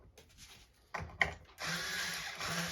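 Guitar tuning pegs clicking while being tightened during a string change, a few sharp close clicks followed by a steady faint ratcheting whir.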